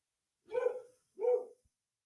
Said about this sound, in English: I don't know if you heard my dog, but my boy just barked a few times too